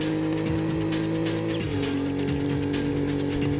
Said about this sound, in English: As I step on the brakes whilst on the bridge